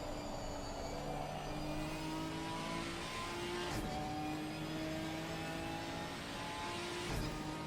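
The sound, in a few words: race car starting flying lap at Brands Hatch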